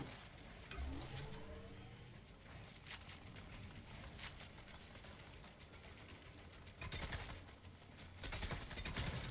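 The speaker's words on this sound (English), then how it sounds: "there's gunfire going all over the place" Fortnite match gunfire crackles through a collegiate esports broadcast, with rapid bursts and scattered shots over a steady game din, a heavier flurry near the end; distant and fairly quiet, no voices.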